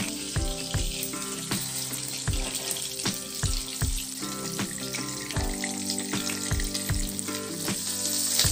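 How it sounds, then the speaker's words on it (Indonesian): Egg-coated milkfish pieces frying in oil, a dense, loud crackling sizzle with scattered sharp pops that continues steadily throughout, with no talk. "Kemudian kita goreng sampai matang."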